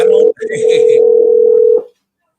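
A steady telephone tone comes from a phone call being placed. The sustained electronic tone is loud and close, starts after a short blip, and cuts off cleanly before silence.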